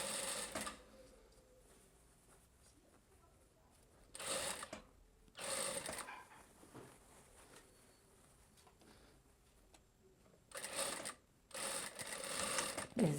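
A sewing machine stitches a blouse, sewing the garment piece over its lining with a ruffle tucked inside, in several bursts of about a second or two each. Quiet handling sounds fill the pauses between runs.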